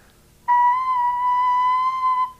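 A single thin, breathy recorder note B, badly formed with a hole not fully covered, held steadily for about two seconds, slightly airy and unstable in tone, then cut off.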